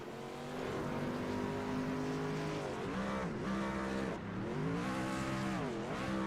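A race truck does a celebratory burnout at the start-finish line after a race, its engine roaring loud and close with repeated revving swells and dips over a continuous harsh rush of spinning tires.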